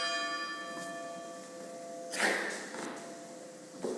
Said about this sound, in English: Rome and the bell ring.